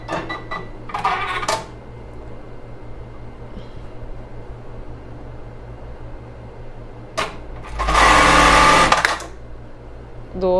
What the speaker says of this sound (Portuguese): Então agora a gente vai fazer o nosso travete aqui